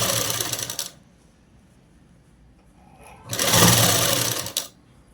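A sewing machine stitches a child's frock for a 12-year-old, made from a blouse piece. It gives two loud, close, buzzing runs separated by a quiet pause of about two seconds.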